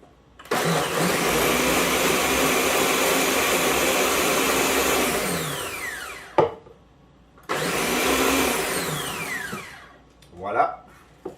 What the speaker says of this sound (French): On passe ça au blender.